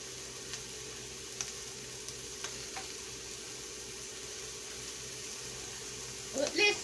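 Cheddar cheese melting on a hot pan for a roast beef and cheddar sandwich, giving a faint steady sizzle with a few soft clicks and a brief louder clatter at the end.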